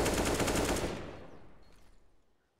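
A quick burst of wall-bang gunshots through a wall in Counter-Strike on the Inferno map during a pro match, loud rapid cracks for under a second, then a fading tail.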